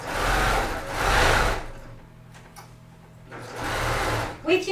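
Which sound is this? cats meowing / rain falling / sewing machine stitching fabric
sewing machine stitching fabric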